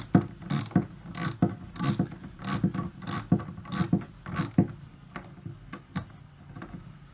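A ratchet wrench tightens battery cable terminals in an RV trailer utility room, with rapid repeated clicking strokes in steady bursts over several seconds, close and fairly loud with no talking.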